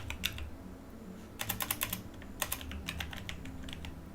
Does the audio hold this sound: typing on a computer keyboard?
yes